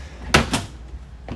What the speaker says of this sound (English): The soft close doors really make it easy to just go through and close all this stuff without having to worry about it slam